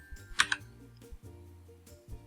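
A few quick keystrokes on a computer keyboard during 3D modelling work in Fusion 360, a short cluster of close clicks followed by quieter scattered taps against a faint hum.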